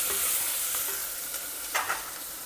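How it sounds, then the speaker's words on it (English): Mint and coriander leaves hiss in a pan with browned onions, a steady broad sizzle with a couple of brief stirring scrapes near the end. "When the onions are well fried and lightly browned, just add in about 1 tablespoon of mint leaves and a few coriander leaves also."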